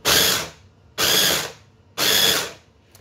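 A food processor pulse-blending raw fish for a terrine: three loud, even motor-and-blade bursts of about half a second each, separated by short quiet gaps, close up with no talking.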